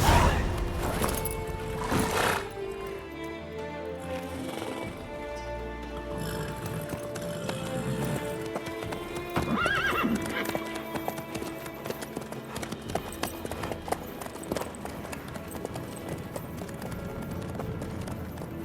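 Horse hooves in The Witcher 3 clip-clop at a steady walking rhythm throughout, close and clear, over a quiet ambient game backdrop with occasional creaks and jingles.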